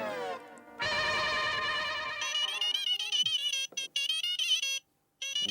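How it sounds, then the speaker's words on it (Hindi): A mobile phone rings with a melodic electronic ringtone, loud and close, the tune stopping and restarting in bursts before cutting off. "जेठालाल का फोन।"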